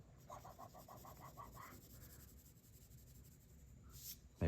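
Pencil shading on paper for a one-point perspective drawing: faint, quick back-and-forth strokes in a steady rhythm for a second or so, then quieter scratching.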